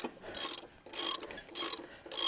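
A ratchet wrench loosens bolts during an engine teardown, giving bursts of rapid clicking, close up, that alternate with brief quiet gaps as the handle swings back and forth.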